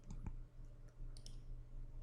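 A computer mouse double-clicked, two quick, faint clicks close together near the start, followed by a few softer taps against a quiet low hum.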